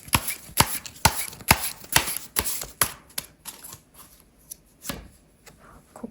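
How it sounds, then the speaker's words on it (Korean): Tarot cards are shuffled and drawn, a run of crisp, sharp riffling snaps in quick succession, close and clear, thinning out into a few softer flicks and a final slap. "카드를 몇 장 더 뽑아볼게요."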